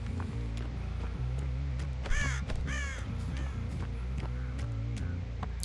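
Crows caw in the Dead by Daylight game, giving a few raspy calls over a dense, steady bed of low game ambience and music.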